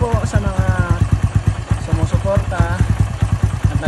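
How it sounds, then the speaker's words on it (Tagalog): Barako motorcycle engine converted from kick start to electric starter, cranking and catching on one click, then running with a loud, rapid rhythmic chugging close by, with voices over it. "kung gaano kalakas yung starter na kinonvert ko. 1 click po, parang magpapaandar siya ng makina ng sasakyan"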